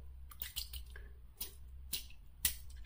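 Water drips and splashes in a few sparse, soft bursts as a synthetic shaving brush is wetted under running water nearby, with no talking.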